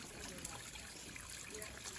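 Spring water trickles steadily from a spout into a trough outdoors, a constant faint splashing wash with no breaks.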